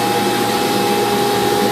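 A banner heat welder's hot-air nozzle runs as a loud, steady blowing roar with a constant whine, continuous and unbroken throughout, with no talking.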